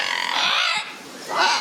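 A parrot gives a harsh, raspy call lasting about a second, loud and close, then a second shorter squawk follows after a brief dip.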